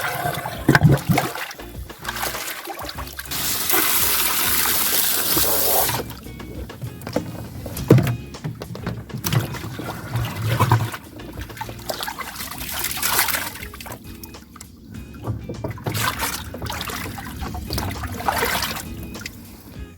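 Water pouring and trickling while a vegetable garden is watered outdoors, uneven splashing and dribbling that swells and fades over twenty seconds, with a louder hissing gush partway through and scattered knocks and handling noises.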